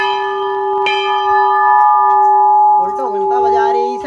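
A temple bell at a mandir in Uttar Pradesh is struck once and rings on with a long, loud, sustained hum, and voices begin talking over the fading tone near the end.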